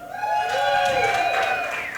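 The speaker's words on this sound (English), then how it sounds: "Make some noise if you think he has one." A game show studio audience makes noise with rising whoops and cheers that swell quickly and hold for about two seconds before easing off slightly.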